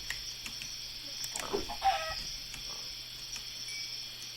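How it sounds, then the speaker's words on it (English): A chicken in a modded blocky survival game gives a brief cluck or two, faint and alone against a quiet game background. "Ooh, and a third chicken's over here."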